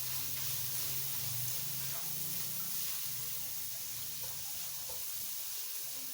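Garlic sautés in a small amount of hot oil, a steady bright sizzle hissing continuously throughout with no talking.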